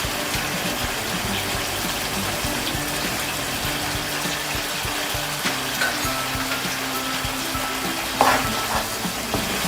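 Chicken masala for a Kerala-style bhuna chicken fries over a high flame, a steady dense sizzle with continuous stirring scrapes and bubbling, loud and close throughout.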